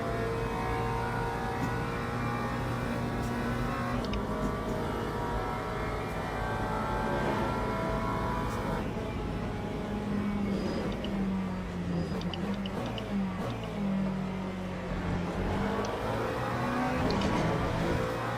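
Hypercar race engines in the Le Mans Ultimate sim, a sustained high engine drone with shifting pitch as cars rev and pass, steady and fairly loud throughout.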